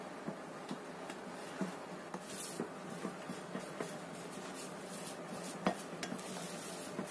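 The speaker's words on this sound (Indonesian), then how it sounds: "Kita aduk dengan spatula." Cookie dough for Indonesian cookies stirred with a spatula in a bowl, giving soft repeated scraping and light clinks against the bowl, steady and close with no talking.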